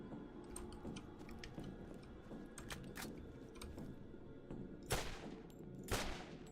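Gunfire at targets in Borderlands arcade mode: scattered quiet shots with two sharper, louder bursts near the end, set against steady game background noise.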